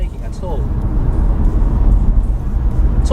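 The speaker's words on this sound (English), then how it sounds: "The car will just keep on pulling gear after gear." A Skoda Octavia's engine drones steadily from inside the car as it pulls through the gears, a close, continuous low rumble that holds fairly even throughout.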